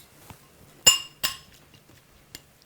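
Glass clinks as a spoon stirs squeezed lemon juice in a glass bowl: a few separate close taps and clinks, two louder ones in the middle and a fainter one near the end, with no talk.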